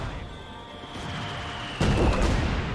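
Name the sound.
artillery barrage in Company of Heroes video game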